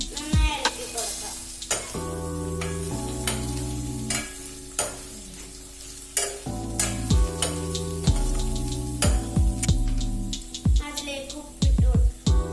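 Kerala prawn roast sizzles loudly in a pan while being stirred, with repeated sharp spatula scrapes and clanks against the metal over a continuous fry, and a low hum running underneath.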